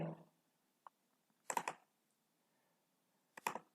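Computer mouse clicks while right-clicking to open links on a university admissions webpage: a faint single tick, then two short bursts of rapid clicks spaced about two seconds apart, close and quiet with no talk.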